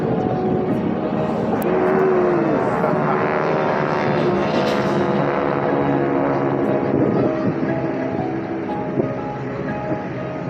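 Military jet display team aircraft flying in close formation over the air show at Jones Beach, a steady loud broadband roar that holds throughout with a slight swell near the middle.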